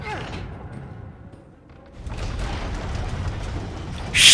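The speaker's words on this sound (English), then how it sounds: "Here's another explosion." A heavy in-game explosion in Resident Evil 6: a dull thud fades into quiet, then a broad rumbling roar builds and swells, ending in a bright, loud burst.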